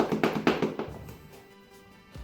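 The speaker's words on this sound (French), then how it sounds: "je vais venir faire des petits pas rapides sur place" Quick light foot taps on the spot, done on tiptoe as a seated or standing exercise, a rapid run of close taps in the first second that fades, then a low thump at the end.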